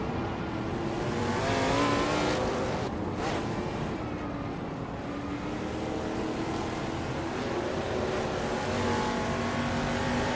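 A 1972 Ford Torino engine in a racing video game drones loud and steady for the whole stretch, its revs rising and easing, with a brief burst of tire noise partway through.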